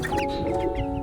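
Bresse chickens in a brooder give off a steady, low, continuous clucking and murmuring that stays at an even level throughout the short moment, with no talking over it.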